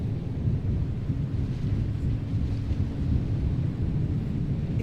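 Deep, continuous rumbling of an approaching thunderstorm in the game Pacific Drive, a steady low roar with rain-like wash and wind across the whole stretch and no talking.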